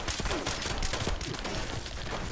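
Rapid gunfire from a level 50 Mr. Gutsy robot in Fallout 76, a dense continuous burst of shots lasting throughout, loud and close, with faint voice traces mixed in.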